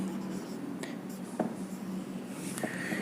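A teacher writes by hand, making soft, dry scratching strokes with a few sharper taps, faint and close, over a light background hiss.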